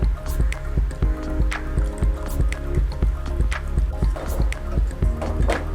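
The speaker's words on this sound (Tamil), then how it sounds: "அதை ஃபில்டர் பண்ணி இதில் ஆட் பண்ணிக்கலாம்" Filtered jaggery water goes into a pot of thinai (foxtail millet) payasam, making a loud, close, continuous wet pouring and splashing with a steady rhythmic dripping pulse throughout.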